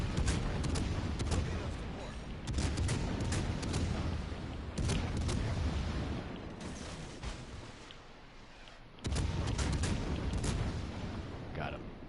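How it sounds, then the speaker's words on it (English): Naval guns in World of Warships pound away in a fast-reload bombardment, repeated heavy booms over constant engine and sea rumble, with a short lull before firing resumes and someone talking over it. "Just bombard the shit out of them."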